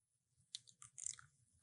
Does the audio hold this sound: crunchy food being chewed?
yes